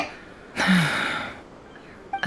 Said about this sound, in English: I heard Yehoda gasp, but I don't blame her.